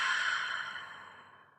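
A single long exhale pushed out through the mouth during Pilates breathing, a close breathy rush of air that fades away over about a second and a half.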